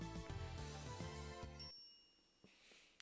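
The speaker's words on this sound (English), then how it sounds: "The chime signals arrival on the 5th floor." An elevator arrival chime from the game Steins;Gate: a soft, faint ding rings out after a bright musical passage and fades away quietly.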